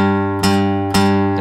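Guitar G note on the sixth string, third fret, picked twice and left ringing, each pluck sustaining into the next with a steady, close, clean tone.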